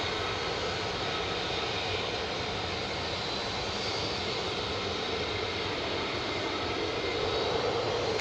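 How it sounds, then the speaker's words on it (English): The single engine of an F-35 jet roars at RAF Lakenheath, a loud, dense, unbroken broadband rumble that holds steady throughout and swells slightly near the end. "single engine on the F-35."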